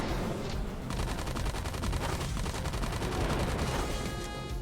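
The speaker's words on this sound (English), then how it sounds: "I want to see his stinky assault rifle." Rapid automatic assault rifle fire from an armpit-mounted weapon in the Super Robot Wars V mecha game, a dense, continuous rattle of close shots that runs steadily from start to finish.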